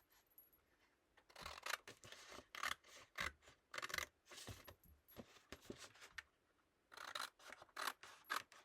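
Scissors cut craft material for a rotating four-photo box, with quiet, close snips and rasping blade strokes coming in irregular bursts and short pauses between them.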